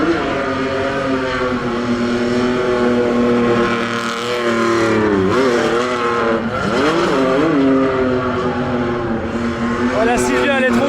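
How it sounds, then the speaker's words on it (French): Nissan Silvia drifting at a tuning show by Lake Constance, a sustained engine roar with rising and falling revs and tire squeal, loud and continuous, with a crowd murmuring underneath. "Oh, la Silvia elle est trop cool, mais elle drift mal."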